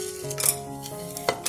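Cumin seeds, bay leaf and other whole spices crackle in melted ghee inside a pressure cooker, a soft continuous sizzle under a steady tonal hum, broken by a few metallic clinks of a stirring spoon; nobody talks.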